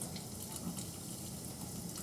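Water runs from a tap in a steady, soft, continuous hiss and splash, faint and unbroken, with no voices.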